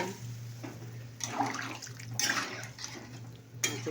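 Water sloshes and splashes in a cooking pan as fish is added for a Bengali fish curry, with several short bursts of liquid movement over a steady low kitchen hum; no talking.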